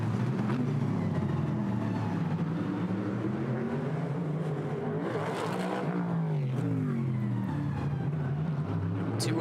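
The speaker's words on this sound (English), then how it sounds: "Two of the best sounding cars at the racetrack this weekend. The Callaway Corvette, the Mercedes-AMG GT3 Evo." GT race cars at a Nashville GT America race, including a Callaway Corvette and a Mercedes-AMG GT3 Evo, roar past with loud engines rising and falling in pitch as they accelerate and shift, a continuous drone with no talk.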